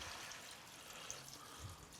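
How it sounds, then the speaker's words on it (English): Chicken broth, about a quart, pours steadily from a container into a cooking pot, a soft continuous liquid splash and trickle at close range with no talking. "we got about a quart of chicken broth going in"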